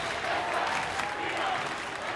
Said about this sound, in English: Crowd starting to get noisy.